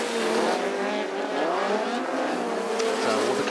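Autograss race cars racing round a dirt track in South Wales, with loud, sustained engine roar and rising and falling revs from several cars passing close, continuous throughout.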